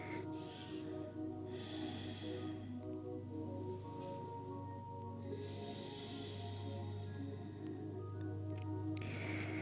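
Slow, audible breaths during a floor mobility exercise focused on the spine and core. Two long inhale-exhale swells rise faintly over a steady low hum in a quiet room.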